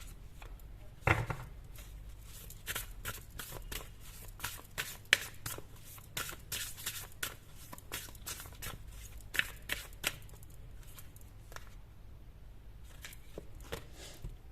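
Tarot cards shuffled by hand at close range, a quiet series of repeated crisp riffling and slapping bursts with brief pauses between them, no voices.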